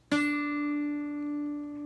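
A single guitar note plucked with the ring finger on the B string rings out clearly and sustains alone, with a bright attack and steady harmonic tone slowly fading.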